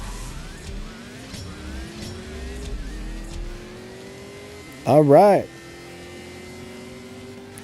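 Race car engines rev and accelerate in the CSR2 Racing mobile game, a steady rising engine drone with one loud sharp revving burst midway, under someone talking.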